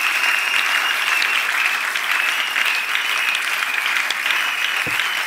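Church congregation clapping hands together in dense, steady applause that fills the whole stretch at close range, with no voices standing out over it.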